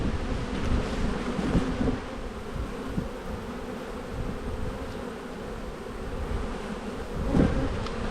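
A dense, steady buzz of many honeybees swarms around an open beehive, close and continuous with faint outdoor wind.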